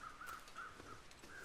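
Crows cawing in a snowy wilderness in the video game The Long Dark, a repeated series of harsh caws at a fairly steady rhythm, faint and distant over low background noise.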